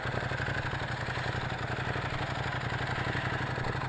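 A Ducati Monster 821 motorcycle sits idling, its engine giving a steady, even, loping throb with a rhythmic mechanical clatter, close and continuous, with no talking.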